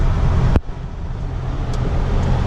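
A 2004 Jeep Wrangler Sahara runs and drives, its engine and road noise forming a steady loud rumble with a sharp click near the start and no voices.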